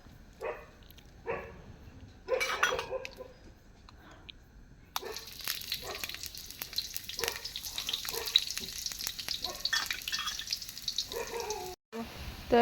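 Onions fry in a pan with a steady sizzle that grows denser and louder partway through, close by. Scattered knocks come early on, along with what may be a dog barking, and no voice is heard.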